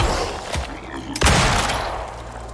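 Two gunshots ring out in the survival video game Icarus, each a sharp, loud crack, the second stronger and trailing into a fading echo, with a game-world rumble underneath.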